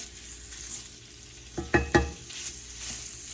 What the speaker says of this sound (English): I'm going to cook the other portion of the meat, which is the Italian mild sausage.